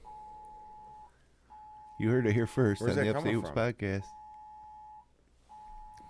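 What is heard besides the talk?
Amber Alert emergency alert tone from a phone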